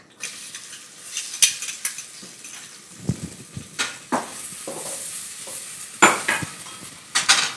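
Onion goes into a pan over high heat, and the frying brings bursts of sizzle, repeated spoon-on-pan clinks and stirring scrapes, loud and close.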